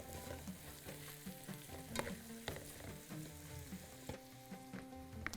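Onion frying in hot oil in a Bahraini kitchen, a steady close sizzle with bursts of crackle and spatter and occasional stirring, heard alone.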